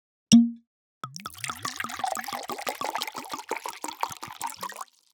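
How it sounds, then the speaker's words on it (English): A bottle of Pol Roger champagne opened with a single sharp cork pop, then after a short pause a bubbling, glugging pour into a glass that carries on steadily for several seconds, close and clear. "To start the conversation, we're opening a bottle of wine."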